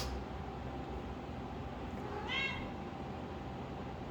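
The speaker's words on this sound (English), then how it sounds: "My cats are making a ruckus." A house cat lets out one brief, faint meow midway through, heard indoors over a constant hiss of background noise.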